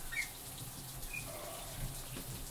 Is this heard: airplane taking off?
no